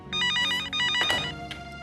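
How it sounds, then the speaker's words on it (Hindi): A telephone rings with a bright electronic trill in a Hindi TV drama scene, sounding in two close bursts about a second long with a short break between them, clear and near, and no one speaks over it. "मिस्टर अभिमन्यु सक्सेना का फोन था।"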